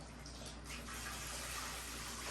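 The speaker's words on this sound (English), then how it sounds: "I like running cold water in my sink while I'm draining potatoes" Cold tap water runs steadily into a kitchen sink while potatoes are drained, a close, continuous broadband gush that swells slightly partway through and holds level to the end.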